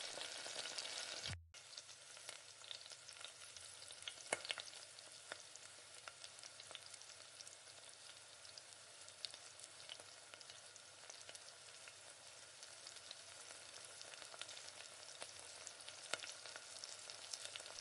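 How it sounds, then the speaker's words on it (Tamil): Beaten eggs for Tamil egg poriyal sizzling in a pan over low heat while being stirred, a continuous close crackling fry with a brief gap near the start and occasional scraping of the spoon. "இந்த மாதிரி நல்லா முட்டையை நல்லா கிளறி விடுக்கோங்க."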